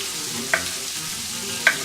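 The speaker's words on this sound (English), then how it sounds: "We'll go ahead and throw those in the pan, get those heating up" Diced meat pieces fry in a hot pan with a steady low sizzle, broken by two brief sharp clinks of stirring, close and with no talking.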